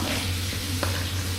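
A ladle stirs pork hock paksiw simmering in vinegar in a pot, giving a steady bubbling, sizzling wash with a faint scrape and one sharp clink of metal against the pot.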